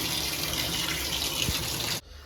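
Water running steadily from a tap into a tub where raw denim jeans are laid flat to soak, a constant broadband rush that cuts off abruptly near the end.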